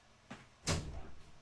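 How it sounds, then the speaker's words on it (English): A door swings open to let a pet cat in, giving a soft click and then a louder, broader rush of sound as it opens, nearby and alone against a quiet room. "let's open the door to my cat"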